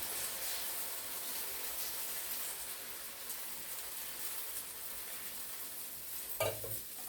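Uthappam batter of ground millet (ragi) and green gram poured onto a hot pan, giving a steady, close sizzle and hiss with light stirring scrapes and a brief louder clatter near the end; no one speaks.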